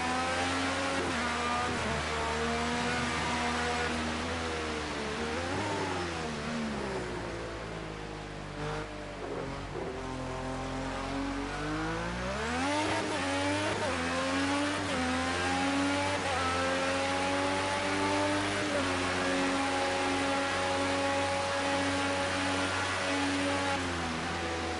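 LMP1 race car engine on track, loud and continuous, pitch sweeping down then climbing again through revs and gear changes, heard alone without talk.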